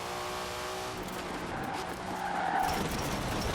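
A car in Forza Horizon 4 oversteers during a street race, engine roaring steadily while tires squeal and skid, the screech growing louder toward the end.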